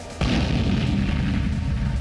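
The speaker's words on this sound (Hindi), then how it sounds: "450 किलोमीटर दूर बेरूत में ताबड़तोड़ धमाके होते हैं।" A sudden deep boom from airstrike explosions in Beirut hits after a brief quiet moment, followed by a sustained low rumble that rolls on and fills the remaining seconds.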